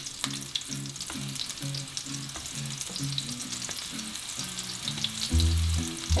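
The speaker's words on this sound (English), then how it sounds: "I changed my heat setting to high so I can just kind of sear my mushrooms on each side." Mushrooms sear in a hot pan on high heat, giving a continuous close sizzle with irregular pops, while a low rhythmic hum runs underneath.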